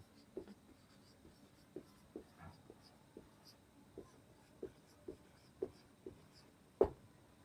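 Chalk or marker writing on a classroom board during a grammar lesson, heard as a faint series of soft, irregular taps and scratches spread steadily over several seconds with quiet room noise.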